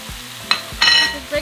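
Ground meat dropped into a pan over cooked onions, frying with a loud crackling sizzle that flares in two bursts as it is stirred, with quieter gaps between.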